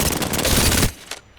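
A rapid burst from the R-99 submachine gun in Apex Legends, loud and continuous for under a second before cutting off. A faint click follows.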